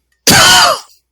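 A single loud, close cough or throat-clearing burst during an online podcast call, sharp onset that tails off within about half a second, alone without talk.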